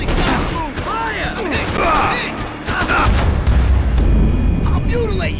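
Rapid gunfire in the shooter game Max Payne 3, a loud dense barrage of overlapping shots and booms mixed with shouted voices throughout.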